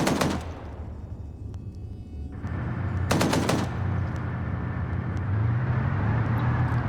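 Automatic gunfire from players mag dumping into buildings during a 220-player PvP game match, in two sharp loud bursts, a short one at the start and a longer one a few seconds later, over a steady rumbling engine-like background.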